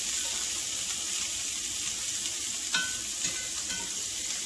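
Vegetables sizzle steadily in bacon grease in a pan for a breakfast of divorced eggs, a continuous frying hiss with a couple of faint clinks partway through and no voices.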